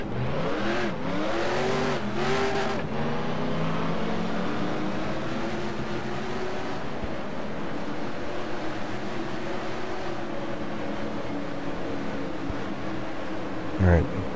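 A stock car engine in the NASCAR Racing 2003 video game roars steadily at high revs, with brief gear-change dips early on and a sharp burst near the end, while a voice talks over it.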